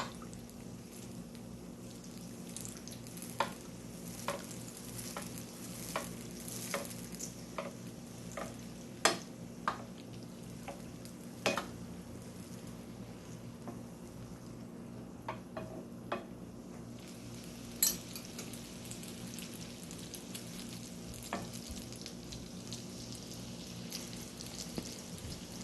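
Fricassé dough fries in hot oil as oil is spooned over it, a continuous soft sizzle with frequent light pops and crackles scattered throughout, steady and close.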